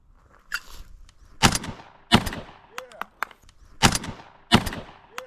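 Tokarev TT-12 12-gauge shotgun fired outdoors: several loud, sharp blasts in two bursts with ringing decays, a faint metallic clank between shots, and a voice speaking briefly between them.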